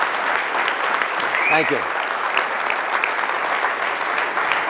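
Sustained applause from a comedy audience honoring a comedian, a steady dense clatter of clapping that fills the room, with a brief spoken thanks over it.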